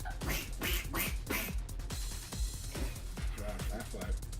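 Someone imitates a duck with a run of nasal quacks amid lively conversation, several quick voiced bursts close to the microphone among other talk.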